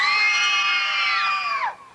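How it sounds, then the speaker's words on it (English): A crowd of film extras on set screams in fear all together, a loud, shrill, sustained group shriek that holds for over a second and then drops away abruptly. "Let's hear a little screaming and fear right now for me."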